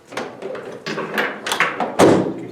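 A spray gun being clipped into the plastic holders inside the door of a suitcase sprayer, giving a series of short plastic taps, knocks and one firmer snap near the end, close up with no talk.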